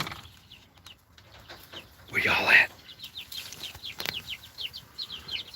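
Hens cluck in a backyard chicken yard, with short repeated chirpy clucks close by. A louder burst comes midway, and a person briefly speaks over them.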